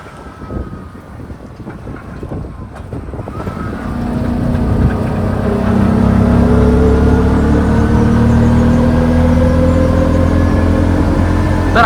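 Auto rickshaw engine droning steadily while driving on a rock-cut hill road from Ratnagiri to Ganpatipule, the loud buzzing motor rising and holding a constant hum with wind rushing past.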